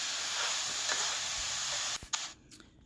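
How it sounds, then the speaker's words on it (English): Peppers cooking in ground beef in a pan give a steady, close sizzling hiss that holds evenly for about two seconds, then breaks off into a few faint clatters. "you want to just cook them a little bit in the ground beef"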